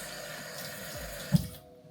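Water is poured into a glass for an iced Americano, a continuous close trickling pour that ends with a brief knock and then silence.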